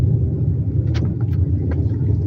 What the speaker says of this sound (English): We are driving on the bridge.